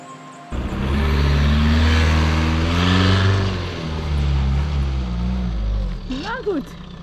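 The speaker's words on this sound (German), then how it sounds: "Wir fahren weiter, aber müssen zuerst hier durch den Matsch." A car churns through a muddy track, its engine note droning loud and close with low harmonic bands that rise and fall, steady after an abrupt start, with brief mechanical squeaks near the end.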